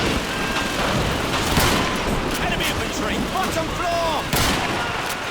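World War II battle gunfire in Call of Duty 2 on PC: a dense, continuous din of rifle and machine-gun fire with heavy booms, while someone narrates over it.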